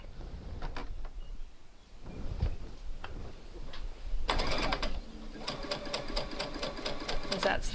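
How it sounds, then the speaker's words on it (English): Sewing machine stay stitching the back neckline of a garment, with bursts of rapid mechanical stitching after earlier ticks and handling noises, fairly close and moderate in volume. "I'm also going to stay stitch the back neckline"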